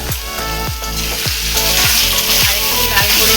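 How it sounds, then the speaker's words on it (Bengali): Potato pieces frying in oil with nigella seeds and dried chili, a steady close sizzle broken by regular scraping stirs about every half second. "আর একটু লাল করে ভেজে নেব।"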